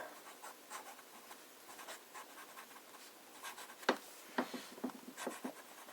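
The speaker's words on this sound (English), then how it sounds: "Let us start with some fine writing." A pen laying down fine writing with Iroshizuku Fuyu-gaki ink on paper gives a soft, faint, close scratching, with a few sharper strokes near the end and no talk.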